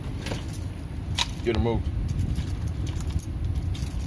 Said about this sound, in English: So many keys on this key ring.